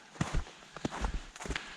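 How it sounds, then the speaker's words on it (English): Footsteps crunching on a trail while hiking up Ben Nevis in still fog, a handful of uneven steps close by at a steady walking pace, with no wind and nothing else around them. "All you can hear is the sound of my footsteps."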